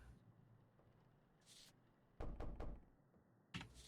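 Hollow knocks thud from a wooden door in the Mortuary Assistant horror game: a faint tap, then a cluster of three or four sharp raps, and one more knock after a pause, quiet and without talk.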